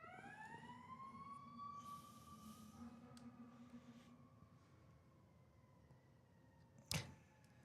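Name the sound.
fire truck siren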